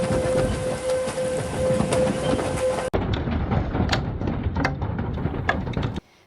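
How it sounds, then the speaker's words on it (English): A tornado roars with a heavy, continuous rumble like a passing freight train, mixed with rushing wind and rain hiss and scattered clatters of flying debris, cutting off abruptly at the end. "Look at the debris. That's a tornado."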